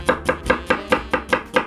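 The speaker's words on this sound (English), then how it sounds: "we need an onion. Slice it into half, and we are gonna slice thinly" A knife slices an onion thinly on a cutting board, about eight crisp, evenly spaced cuts in a quick steady rhythm, close and clear with no voices.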